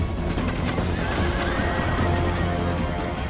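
Horses gallop and neigh amid battle in Rome: Total War, with fast hoof clatter and loud whinnies over a dense rumbling game mix.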